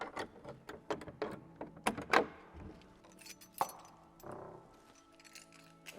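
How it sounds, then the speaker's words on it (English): Large old keys for a medieval castle door clink and jangle, followed by metallic scrapes and clunks of a lock being worked, a sequence of sharp irregular metal hits heard close and fairly quiet. "I've been given the key. It's one of those rather wonderful, spectacular"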